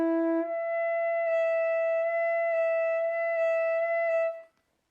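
A single sustained saxophone note, high C sharp played with the octave key pressed fully down on a Selmer Supreme, held steadily for about four seconds after a brief lower start, then released.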